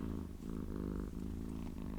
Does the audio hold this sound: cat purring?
yes